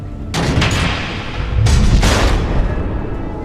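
Missiles detonate in Batman: The Enemy Within, two heavy booming blasts in quick succession with a rumbling low roar and crackling debris that linger and fade.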